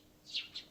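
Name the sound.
small birds tweeting outside the window, from video game Steins;Gate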